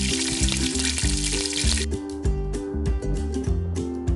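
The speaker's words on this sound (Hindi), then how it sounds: "ऑयल में हमने दलिया जो है वो शामिल कर दिया। अब हम इसको फ्राई कर लेंगे।" Continuous sizzling and crackling of broken wheat frying in hot oil in a pressure cooker for haleem, with clinking and scraping of a utensil stirring the pan.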